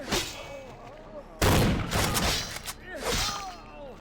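A burst of gunfire in the video game Vampire Bloodlines: a loud, dense volley lasting about a second, set among game sound effects and a voice talking.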